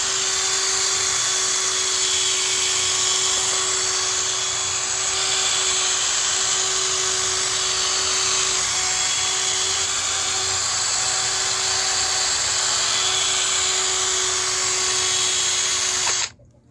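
A cordless power drill runs on a converted local battery, whirring continuously at a steady high pitch for about sixteen seconds before cutting off abruptly at the end, with no voices.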